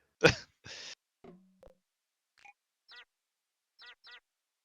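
Cartoonish duck quacks from the video game Crossroad Crisis: a few scattered short squawks and sighs, then several brief rising quacks spaced apart, near and clear against silence.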